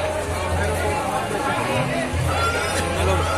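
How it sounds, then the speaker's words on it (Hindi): Dense crowd chatter and babble fill a busy Ganesh pandal in Bhilai Sector 2, lined with food stalls and game stands, a steady loud hubbub of many voices with low rumbling underneath. "बहुत ज्यादा भीड़ है यार।"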